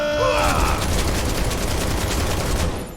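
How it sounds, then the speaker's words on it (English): Barret's arm-mounted gun fires in Final Fantasy 7 Remake, a loud sustained burst of rapid automatic shots rattling continuously with a metallic edge, close and dense throughout. "What you shooting, Barrett?"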